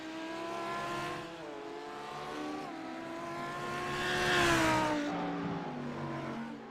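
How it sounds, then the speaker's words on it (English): Race car engine in a racing video game at Mount Panorama, a GT3 car revving with steady harmonic whine that rises and swells toward a loud peak, then cuts as the car spins out and hits the wall. "he's going to lose the rear of the car there. Makes hard contact with the wall."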